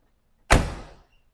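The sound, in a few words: car doors closing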